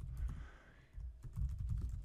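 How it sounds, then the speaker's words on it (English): Quiet computer keyboard typing an email address, a quick run of soft key clicks in two bursts separated by a short pause, close and faint. "So in this case, I will type"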